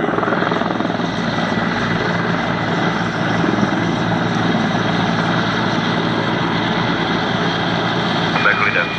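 A Czech Air Force Mi-17 Hip helicopter performs a flying display at Duxford's Battle of Britain airshow, its steady rotor and turbine roar loud and continuous throughout, with faint voices underneath.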